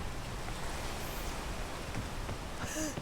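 Steady rain hissing in the video game Peak, an even, moderate wash of noise with a brief tonal chirp near the end.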